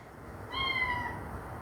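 Maddie the cat gives one clear meow, close by and moderately loud, over a quiet room hum.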